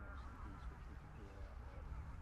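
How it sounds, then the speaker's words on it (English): Waders and geese stir across the Wash at RSPB Snettisham in Norfolk at dawn, a dense, continuous low murmur of distant bird calls with faint honking, steady throughout. "you just start to hear the birds moving"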